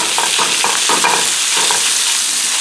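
Already-cooked Palm corned beef sizzles steadily in plenty of olive oil in a pan, a loud continuous frying hiss with several rhythmic scraping stirs near the start.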